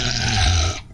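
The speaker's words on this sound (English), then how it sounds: "This devil dog named Frankie is a snarling terror." A bull terrier dog snarls and growls close up, a continuous deep, rough rumble with a harsh raspy edge that holds steady and then cuts off near the end.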